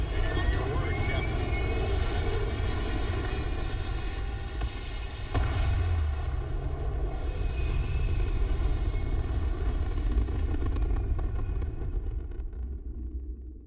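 Spaceship engines in the video game Starfield, a continuous loud rumbling roar with a brief surge midway and a slight fade at the end, with a voice speaking over it.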